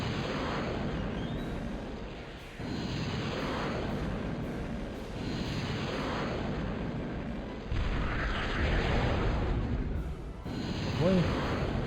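Dense, continuous rumbling blasts from a factory being destroyed in the real-time strategy game Total Annihilation, with repeated booming explosions and crackling debris layered over steady game noise.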